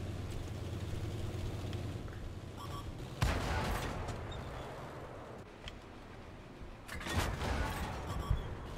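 Tank cannons and battle fire boom through World of Tanks gameplay, with two sharp, loud blasts standing out over a steady rumbling engine background and scattered distant shots, and no talking.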